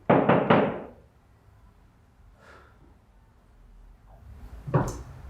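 Three quick firm knocks on a door ring out at the start, loud and close, followed by near silence, a faint shuffle and a later softer thump.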